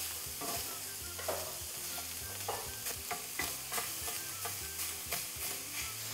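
Sausage sizzles and browns in a pan while a wooden spoon breaks it up, giving a continuous frying hiss with soft scraping and stirring knocks at an irregular rhythm and no voices.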